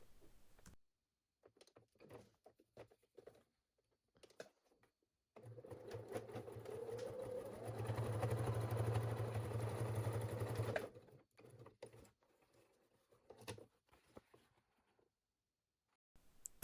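A sewing machine stitches close along the edge of fabric, from the right side, for a small bag. Short bursts of handling and clicks surround a sustained whirring run of about five seconds in the middle.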